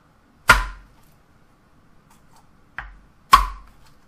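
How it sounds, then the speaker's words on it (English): Garlic cloves are smashed on a board with the flat of a knife, giving three sharp, loud thwacks spaced apart with quiet between them, the middle one lighter. "I'm going to smash them with the flat of the knife."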